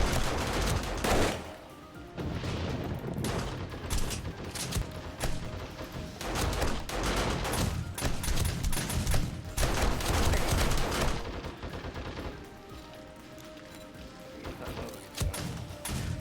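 Repeated gunfire in 7 Days to Die: loud, sharp shots and rapid bursts crack out in uneven clusters, with brief pauses between volleys.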